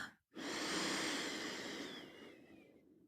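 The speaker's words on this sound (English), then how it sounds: "Say hello to your breath." A single long, soft exhale drifts through a guided postpartum meditation, a close, quiet breath after a brief pause, fading gently away.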